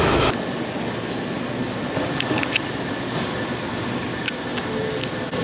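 Metro train running through a metro station, a loud continuous rumble and roar with scattered metallic clicks and brief squeals, close by and with no voices.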